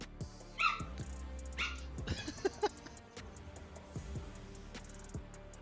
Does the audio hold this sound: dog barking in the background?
yes